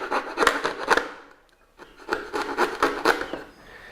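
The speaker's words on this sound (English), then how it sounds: "Coping saw, and you trim out the angles or the curves in the trim" A coping saw cuts wood trim for a coped joint in a series of quick, rasping back-and-forth strokes. The strokes come in two bursts with a short pause between them, close and fairly loud, and no one speaks.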